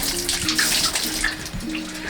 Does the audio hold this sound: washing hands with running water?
yes